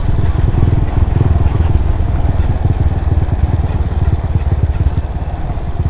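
A motorbike engine labours steadily and loud up a steep uphill road in Bagac, Bataan, a dense continuous drone with rattling clatter throughout and no talk.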